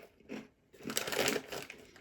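A short crunch of smoky paprika potato chips, then a pause, then a longer burst of dense, crackly chewing heard close and alone.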